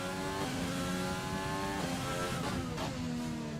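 Formula 1 cars in the racing game F1 2020 at the Canada circuit: a steady, loud, high-pitched engine whine that shifts pitch as the cars accelerate, continuous throughout without talk.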